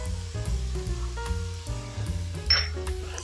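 Garlic and salt sizzle gently in a pan over low heat, a soft frying crackle sitting beneath ringing clinks of a utensil against the pan and faint kitchen sounds, close and fairly loud.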